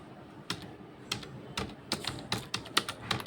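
Computer keyboard keys clack in an uneven series of sharp taps, some quick bursts and short pauses, close up and crisp, with no talking.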